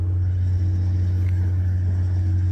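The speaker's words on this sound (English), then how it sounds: "there's a road that winds throughout this hill, so you'll hear big trucks going by" Heavy road traffic on a winding hillside road, likely big trucks, gives a steady, loud low engine rumble throughout, with no distinct pass-by.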